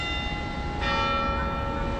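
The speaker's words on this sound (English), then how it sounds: "I love when the bell rings at the church." A church bell rings out near a park, one sustained ringing tone that starts partway through and hangs over a steady low outdoor rumble, no talk.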